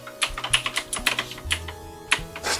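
Quick, uneven clacking of keys on the keyboard of a 3D-printed Raspberry Pi retrocomputer, close and clear, with a few harder strikes among the lighter taps.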